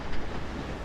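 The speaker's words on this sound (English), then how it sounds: "stand on the edge of the track and let the train approach" A train approaches on the track in the video game Back The Fall, a dense, steady rumble of wheels and carriage noise lasting under a second, loud and close.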